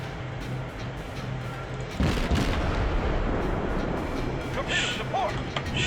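Naval guns fire from warships in World of Warships, a heavy boom arriving around the middle followed by rumbling and crackling, with someone talking over the battle sounds.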